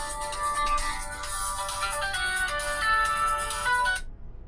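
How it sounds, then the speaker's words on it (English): An incoming-call ringtone plays from a phone in a continuous melodic loop for about four seconds, steady and fairly loud, then cuts off abruptly into silence. "Oh, got a phone call."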